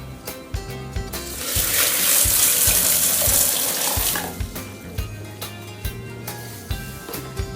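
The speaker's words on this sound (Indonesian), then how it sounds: "Terus kita kasih air." Water from a tap runs steadily into a pot for boiling tunjung natural batik dye. Gushing flow swells in the middle and then eases, with faint clanks throughout and no voices.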